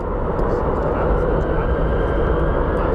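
An airplane at Phoenix Sky Harbor International Airport gives a steady, broadband engine roar that holds at an even level throughout, moderately close with no break.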